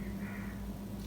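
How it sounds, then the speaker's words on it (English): Ravens caw faintly in the background over a steady low hum, with a soft harsh call rising briefly near the middle and another at the end. "there are actually ravens in the background"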